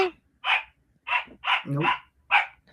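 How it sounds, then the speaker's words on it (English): A dog barks five or six times in short separate bursts close by, with quiet gaps between them and one brief spoken word. "The dog is barking."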